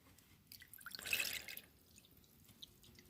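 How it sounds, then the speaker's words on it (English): Hard tap water is poured from a jug into a container, making a short splashing rush that rises and fades within about a second over quiet background noise. "the next step is to fill this up to the desired level with some water"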